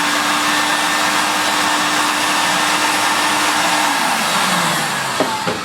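A refurbished-condition Electrolux Z2060 Electronic vacuum cleaner runs at a steady, loud whine with a broad airy roar, continuous throughout, with a faint tone drop and a couple of clicks near the end.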